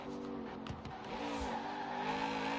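In Forza Horizon 4, a Lamborghini Aztek with twin turbos drones steadily, with engine tones that dip and climb again as it shifts gears a couple of times at speed. No one talks.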